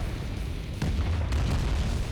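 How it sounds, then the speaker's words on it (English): Muffled booms from a Command & Conquer Tiberium Dawn battle thud low and heavy, with one sharper burst near the middle and a second soon after over continuous rumbling game noise, no voices. "you can hear every time it goes from green to yellow, it has that extra explosion effect too"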